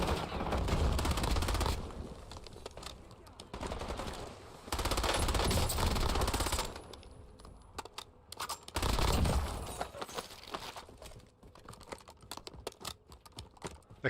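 Kogot SMG gunfire in Call of Duty Warzone, rapid automatic bursts of several seconds each, separated by pauses filled with sharp scattered shots and clicks, loud and close.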